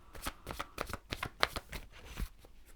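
Tarot cards shuffled by hand, a quick series of crisp riffling slaps and flicks in uneven bursts, close and fairly clear, with no talking.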